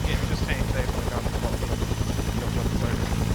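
A helicopter idles or hovers close by in the military game Arma 3, a constant loud rotor and engine thrum with rhythmic low pulsing, while a person talks over it.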